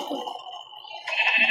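Sheep in a video game give a short nasal bleat, then a brighter second bleat near the end, close and clear with no talking.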